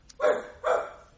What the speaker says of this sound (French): Tiens, voici votre chien qui se réveille.